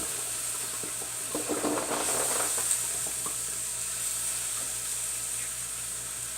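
Scrambled eggs sizzle steadily in a pan while being stirred, a constant hiss with soft scraping bursts of the utensil near the start, close and alone without talk.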